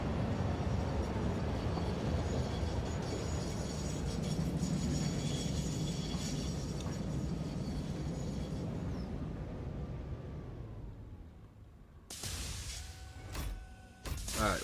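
A train in the Satisfactory video game rumbles in with a loud, broad roar that slowly fades as it comes to a stop at a station, followed by a few brief mechanical clanks and tones.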